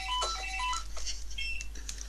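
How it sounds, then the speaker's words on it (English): A telephone rings with short electronic warbling tones in a quick, broken pattern, fairly faint beneath a steady low hum, with no talking over it. "Excuse me, the phone rang."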